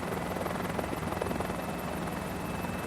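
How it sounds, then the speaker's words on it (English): A Mini 500 light helicopter in Microsoft Flight Simulator 2024 drones steadily in flight, its rotor and engine making a loud, continuous whirring hum with a rapid rhythmic chop that holds evenly throughout, with no voices. "once you get this helicopter stabilized, it just flies like a dream"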